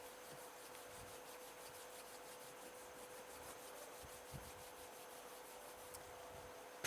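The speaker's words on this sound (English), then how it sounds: "bring the palms of your hands together at chest level and rub them gently against each other" Palms of hands rubbing gently against each other at chest level, a soft steady whooshing friction repeated in a slow continuous rhythm, faint and close.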